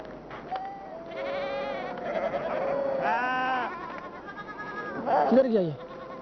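Sheep bleating as they are herded along, a series of loud, quavering bleats close by, overlapping with a man calling out to the animals.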